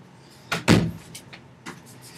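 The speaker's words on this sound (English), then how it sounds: "Let me close the door." Door being closed indoors: a couple of short sharp knocks and a solid thud, followed by faint small clicks.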